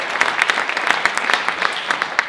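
A festival crowd at the Burlington Irish Heritage Festival cheers and claps in a steady, dense wash of applause with scattered sharper claps throughout.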